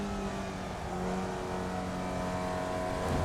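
A Formula Vee race car in a racing video game drones steadily at close range, with engine tones shifting as it downshifts into a turn and no voices.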